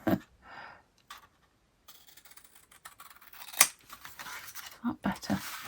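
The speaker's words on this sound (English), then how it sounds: "See if I can cut it straight this time." Scissors snipping through folded craft paper at a crafter's desk, a few close, crisp cuts spaced irregularly, with quiet handling noises and a voice speaking briefly at the start.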